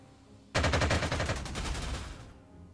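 Video game gunfire in Panzer Corps 2 aimed at a Spitfire fighter: a sudden loud, rapid machine-gun burst that rattles for nearly two seconds and then cuts off, with no voices.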